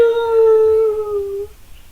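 A storyteller's voice imitates a wolf howling: one sustained, tonal howl that sags slightly in pitch and fades out after about a second and a half, leaving near silence.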